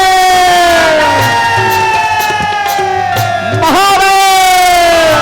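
A large devotional gathering shouts "Mahadev" together in a loud, sustained chant, the massed voices merging into long, wavering tones that swell and dip.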